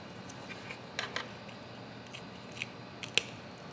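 Scissors snip through fish gill rakers during a dissection, giving a few quiet, close crunching cuts and small clicks against a soft background hiss.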